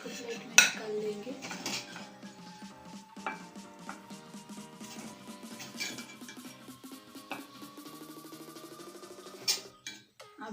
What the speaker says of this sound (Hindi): तो अभी हम अंडे की भुर्जी को प्लेट में निकाल लेंगे